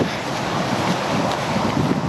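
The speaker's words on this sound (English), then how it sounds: "it's getting a little breezy today" Steady breeze buffeting the microphone beside the lake at Disney's Pop Century Resort, a continuous broadband rush with slight gusting and no voices.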